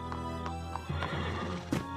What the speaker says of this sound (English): James, take care of the horses.